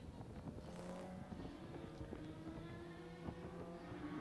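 Racing boats with 1100cc engines drone and whine at a distance at a race night in Quinte, the sustained motor tones shifting in pitch over a noisy background.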